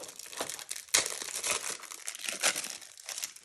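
Plastic wrapping on a board game box crinkles and tears as it is opened, a close, continuous rustle with sharper crackles, no voices.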